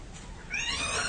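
A startled cat in an old-time radio horror drama lets out one short, rising meow after a moment of low background hiss, close and moderately loud.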